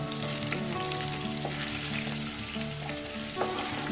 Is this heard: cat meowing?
no